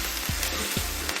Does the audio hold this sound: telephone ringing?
no